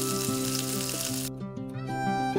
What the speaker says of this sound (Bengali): আদা রসুন ভাজা গন্ধ চলে যাওয়া পর্যন্ত ভেজে নিয়েছি